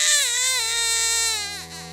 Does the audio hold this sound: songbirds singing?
no